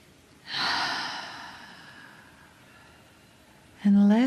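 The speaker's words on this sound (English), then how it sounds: "take a breath with me. Big inhale. And another inhale." A deep inhale drawn slowly through the nose in a calm guided breathing exercise, a long soft airy rush that fades out, followed by a brief voiced sound.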